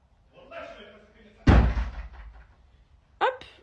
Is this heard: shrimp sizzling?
no